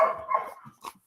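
A dog in South Texas gives a couple of short, faint barks and yips with a small whimpering note, separated by brief pauses.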